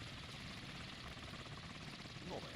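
A helicopter flying in the naval combat game SeaPower, a steady broad rotor and engine roar that holds level throughout with no gaps, close and fairly loud.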